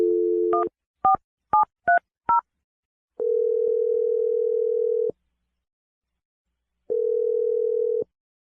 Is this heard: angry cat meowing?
no